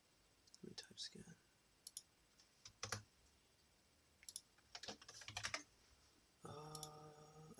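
Keys on a computer keyboard clatter in short, quiet bursts of clicks separated by pauses, with a voice speaking near the end.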